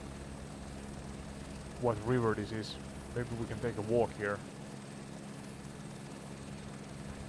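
A helicopter in Microsoft Flight Simulator 2024 gives a steady low rotor and engine drone throughout, with someone talking over it midway.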